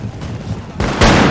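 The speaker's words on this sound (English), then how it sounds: "That's a point-blank range shot from the Nizam mounted gun cavalries" Point-blank gunfire from Nizam mounted gun cavalry in a Napoleon: Total War battle on the Siberian Plateau map, with a sharp volley bursting in near the end over ongoing battle noise.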